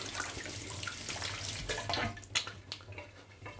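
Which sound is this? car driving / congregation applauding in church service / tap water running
tap water running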